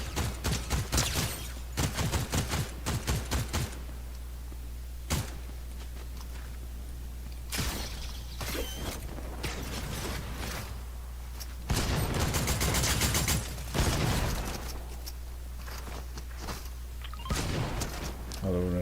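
Video game gunfire crackles in rapid bursts and single sharp shots across a long stretch, some loud and close, others thinner, over a steady low background hum.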